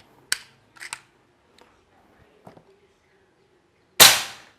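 An NP Bocap Preda Taktikal PCP air rifle with a 500 cc tank at 2000 PSI, set to full power, fires one loud, sharp, close crack that decays quickly, preceded by a few small clicks and handling noises.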